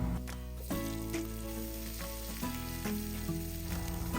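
Garlic and onion sauté in hot frying oil for bistek-style milkfish belly, a loud continuous sizzle with occasional stirring scrapes and clinks, close up and with no talking.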